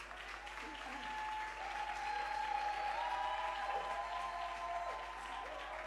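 A church congregation applauds and cheers together in a sustained, steady wave of clapping that fills the whole stretch, with voices and a held musical tone running beneath it.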